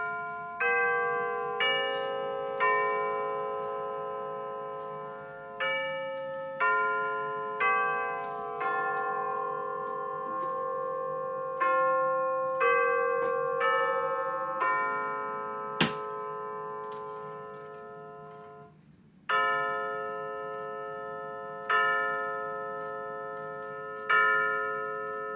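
The full Westminster chime rings out from a Rhythm clock, a steady sequence of bell tones in measured phrases, each note sustaining and overlapping, followed by slower deep hour strikes, clear and alone in a quiet room.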